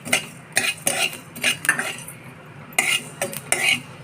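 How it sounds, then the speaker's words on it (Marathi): Mustard seeds dry-roasting with coriander and cumin in a pan, stirred with a metal spoon in a steady series of close scrapes and clinks, no talk. "धने आणि जिरे टाकलेत मी भाजायला. यावर आता मोहरी टाकते."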